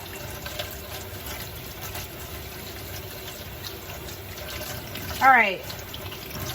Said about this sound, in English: so you're gonna go ahead and turn your water off